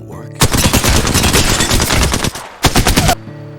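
Rapid automatic gunfire in the video game Apex Legends, a long loud close burst followed by a brief pause and a second shorter burst, with no voice over it.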